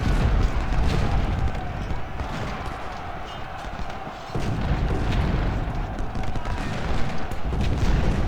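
Massed musket volleys and cannon booms roll continuously in an Ultimate General: Civil War battle at Chickamauga, a dense rumbling fusillade with no break for the whole stretch.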